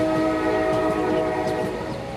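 A train runs on its tracks with a steady, loud rumble and sustained horn-like tones on top, and faint rhythmic clatter of wheels underneath.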